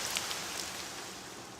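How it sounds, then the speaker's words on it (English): Rain falls in the city-building video game Caesar IV, a steady soft hiss of droplets with a few faint scattered taps, even and unbroken throughout. "Rain in the desert."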